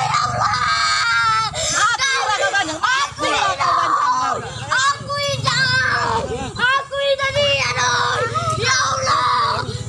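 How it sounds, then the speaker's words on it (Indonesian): A child screams and wails in distress, pleading and crying while being beaten by an adult neighbor, with sustained loud shrieks and sobs breaking into yells throughout. "Korban berteriak meminta ampun dan menangis agar tidak dianiaya."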